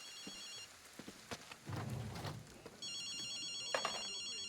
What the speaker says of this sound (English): あの電話が鳴っているみたいだ。